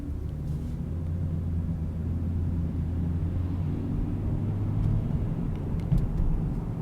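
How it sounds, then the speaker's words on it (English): Steady low rumble of a car driving through traffic in Groton, Connecticut, a continuous engine and road drone with faint passing-vehicle swells and no talk. "A lot of traffic right down in this area at the moment."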